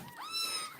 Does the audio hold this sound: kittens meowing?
yes